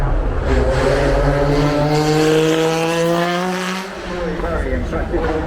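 A Ferrari Formula One car engine screams at Goodwood, a loud, high, steady rising whine that briefly dips and then surges again, close and dominant, with a voice heard over it.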